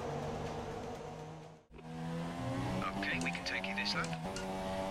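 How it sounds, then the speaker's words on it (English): A Red Bull race car in the F1 2018 video game brakes hard into the pit lane, the engine note dropping in stepped downshifts with faint tyre noise, heard close and steady under commentary. "Coming into the pits on lap 6 of this race, braking down for the speed limit."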